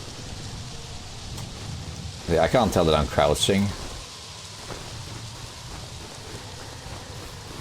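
Steady rain and storm ambience from the survival video game Prologue, a continuous wash of rainfall throughout, with a person speaking briefly over it near the middle.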